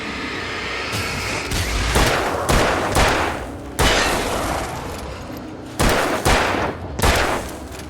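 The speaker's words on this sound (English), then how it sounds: "I'd never fired a gun outside a shooting range, and now I just killed someone." Gunfire in Alan Wake, several loud sharp shots in irregular bursts with echoing tails, set against a continuous rumbling background noise and no talk.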